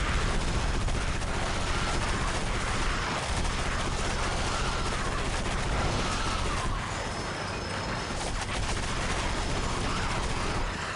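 Gunfire at aliens in the 2005 shooter game Area 51, a dense and continuous rattle of automatic weapons mixed with battle noise that stays loud for the whole stretch.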